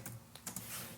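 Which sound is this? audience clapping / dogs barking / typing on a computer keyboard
typing on a computer keyboard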